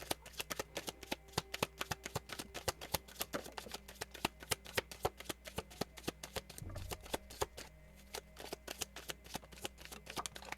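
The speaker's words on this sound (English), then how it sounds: "I love when the cards fly out like that" A deck of tarot cards is shuffled by hand, a long run of quick, crisp riffling snaps and slaps with some cards flicking loose, fairly quiet and close.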